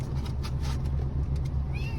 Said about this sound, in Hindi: कितनी प्यारी बिल्ली है ना भाई